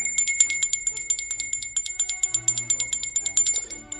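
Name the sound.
bell marking the halfway point of the podcast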